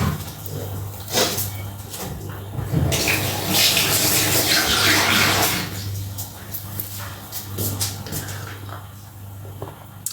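Water pouring from a tap into a container nearby, a steady rushing stream lasting several seconds amid soft household clatter and a low background hum, with a voice briefly audible.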